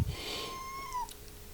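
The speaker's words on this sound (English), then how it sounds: "Oh look, here comes the cat." Noodle, a domestic cat, gives a single drawn-out meow close by, a rising then falling cry lasting about a second, followed by a few soft faint chirps.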